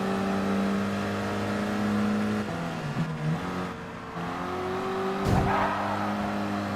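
Race car engines in the Gran Turismo Sport video game, one engine droning and shifting pitch steadily up and down with a whine over a low rumble, a brief squeal near the end, continuous and loud with no talk.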